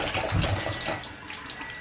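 Water pours from a kitchen tap into a sink while apples are washed under it, a steady close splashing rush with slight shifts as the fruit is moved, no voices.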